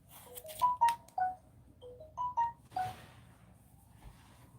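A telephone sounds a series of short, pitched dialing tones, about seven beeps in two quick clusters with a pause between, close and clear against a quiet room hum.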